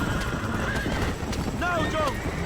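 Horses in Red Dead Redemption gallop with steady clip-clop hoofbeats under a dense game soundscape, and a couple of shrill neighs and whinnies rise near the end.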